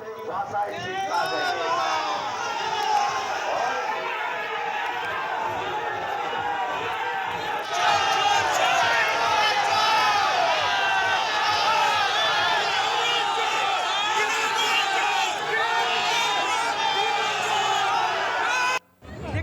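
A dense crowd at a BJP rally in Bally chants a slogan in loud unison, rhythmic shouting and cheering sustained throughout with overlapping voices, close and energetic.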